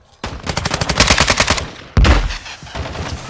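Rapid, loud bursts of Fennec submachine gun fire in Modern Warfare 2022, a steady rattling stream of shots for about a second and a half, then a short pause and a second heavy burst.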